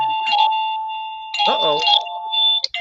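A short electronic alarm jingle from a livestream rings out in bright tones, with a person reacting briefly partway through.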